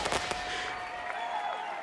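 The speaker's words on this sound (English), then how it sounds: "I'll give you some fireworks." Fireworks sound effect played from a soundboard: a couple of sharp bursts near the start followed by a crackling, fizzing tail with faint whistling tones, moderately quiet and without speech.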